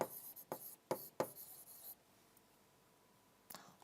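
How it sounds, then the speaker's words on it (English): A teacher writes the factors of 30, likely chalk or marker on a board: several quick scratchy strokes in a row, a pause, then one more stroke, close and fairly quiet with no talking. "Okay, now what I am writing, children? I am writing the factors of 30."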